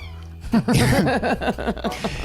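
A pet cat named Edward meows repeatedly in a loud, drawn-out, insistent string of close cries, with a brief quiet gap before it starts.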